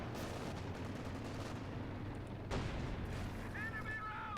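Heavy artillery and machine-gun fire from a pack howitzer and an MG34 in a competitive WWII strategy game match, a dense continuous rumble of shots and blasts with a sharp crack midway, heard under constant commentary.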